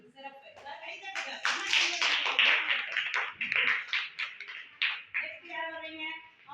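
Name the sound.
children clapping hands in class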